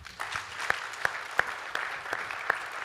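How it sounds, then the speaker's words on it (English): Audience clapping for panelists at a business conference, a modest round of applause with several sharp claps standing out, fairly close, no talking. "Big round of applause for our panelists"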